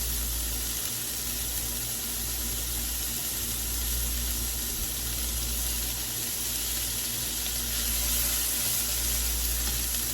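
Blistered cherry tomatoes sizzle in a hot pan, a steady dense frying hiss with low hum underneath, constant and close throughout, no voices.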